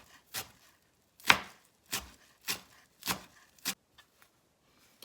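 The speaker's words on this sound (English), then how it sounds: "So I'm going in here about a cup of freshly chopped parsley," Knife chopping fresh curly parsley on a board for a quinoa and chickpea salad, six or seven crisp, close chops at an uneven pace, the last few lighter and fading.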